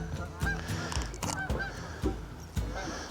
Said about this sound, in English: oh, we got a little goose action going there